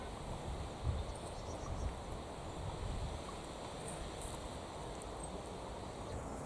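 Wind gusting outdoors in a kitchen garden, a constant broad roar and rustle buffeting the microphone, fairly close and steady with slight surges, no voices.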